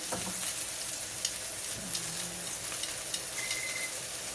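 Flat-iron steak sizzling and frying in a hot pan, a steady dense crackle and hiss with scattered pops, close and continuous with no talking.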